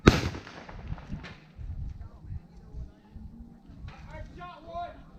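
A gunshot from a Western reenactment show by the Crooked River Posse in Osawatomie, Kansas: one sharp loud blast at the start, followed by shouting and talk from performers.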